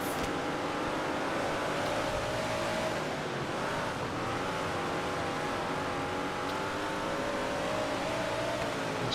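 Race car engines howl on a dirt track in World of Outlaws 24. A steady, loud, droning roar from several cars runs throughout with slight rises and falls in pitch.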